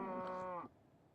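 A cow moos once in a video game, a single close, loud drawn-out low call lasting just over half a second before cutting off into quiet.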